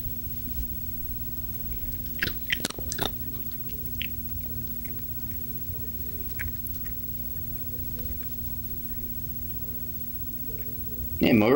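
Archie the cat crunching dry food up close, soft irregular bites and chewing over a steady electrical hum, with a sharper rustle near the end and no voices.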